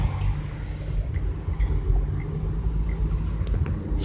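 A car driving through a city downtown, heard from inside as a steady low rumble of engine and road noise with faint traffic sounds around it; no talking.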